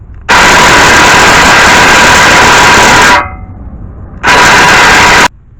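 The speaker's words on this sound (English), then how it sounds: "I was able to remove the lock nut from the hub. I had to go recharge my impact gun" Cordless impact gun removing the lock nut from the front wheel hub of a 2001-2006 Toyota Sequoia/Tundra, a loud close harsh rattling burst of about three seconds, a short pause, then a second shorter burst.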